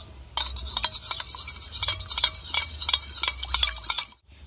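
Chocolate mixture being stirred in a pan while it melts down to a liquid for homemade chocolate, giving a close, steady run of scraping and soft clinking strokes that stop abruptly near the end.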